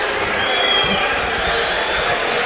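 Home crowd at a Hull vs Stoke City football match, a steady broad roar of many voices filling the stadium, loud and continuous throughout.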